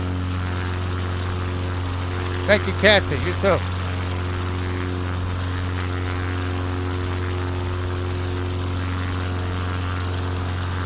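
A propeller airplane engine drones steadily in flight, a constant low hum that fills the whole stretch, with a short exchange of talk near the start.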